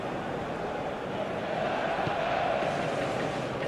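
A stadium crowd in the eFootball 2021 video game, during a Mexico vs South Korea match, gives off a steady, dense roar of cheering that swells slightly midway and holds at an even level with no break.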